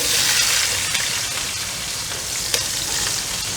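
Sweet peppers hitting a couple tablespoons of hot olive oil in a pan on a stove, a steady, close, broadband sizzle that holds for several seconds with faint stirring crackles and no voices.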